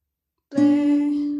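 A single guitar string plucked once to sound the note C (do) during a beginner's guitar lesson, ringing out clear and sustained after a short silence, then slowly fading.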